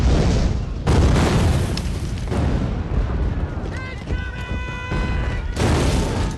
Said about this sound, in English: With constant shells hitting the American position